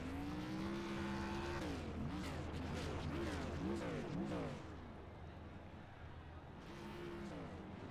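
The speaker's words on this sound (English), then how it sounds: "iRacing pace car leaving the start-finish line for our formation lap" iRacing pace car leaving the start-finish line at New Hampshire Motor Speedway's 1-mile oval for a formation lap: a steady engine drone with rising and falling gear tones, loud at first and easing off, with some speech over it.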